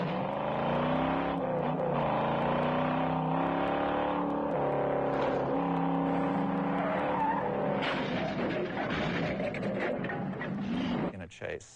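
Film car chase with tires skidding and squealing, engines revving and surging while cars sweep past, loud and continuous, with a voice talking over the action in places.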